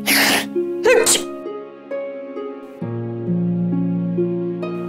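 One loud, sharp sneeze bursts out at the start, followed by a second sneezing burst, and then soft sustained background music continues alone.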